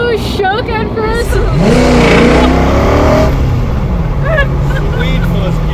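Ford GT40 with a 427 small block revs hard under acceleration in first gear, a loud close engine note rising in pitch, with excited voices talking over it.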